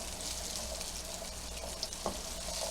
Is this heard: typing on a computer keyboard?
no